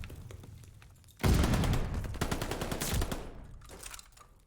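Rapid gunfire and bursts of automatic shots crackle through a competitive Call of Duty-style esports match, loud and dense for several seconds with short gaps, over low background noise.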